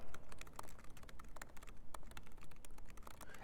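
Rapid clicking keystrokes on a computer keyboard while HTML is typed, an uneven burst of close taps with brief pauses, continuous and fairly loud with no voices.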